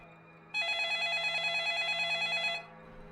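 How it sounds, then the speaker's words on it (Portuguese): An old-style telephone bell rings in one sustained metallic trill lasting about two seconds, loud and near, set against a faint steady hum in an otherwise silent room, used as an eerie effect. "Então, o telefone tocou."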